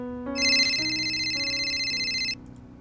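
A phone rings for an incoming call, a bright electronic ringtone with trilling high tones over a steady melodic pattern, sounding once for about two seconds before stopping.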